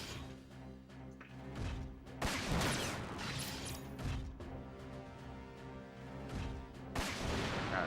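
Mech weapons in Front Mission 4 fire in heavy, booming bursts over layered game music, with a few loud impacts spaced across the passage and no talking.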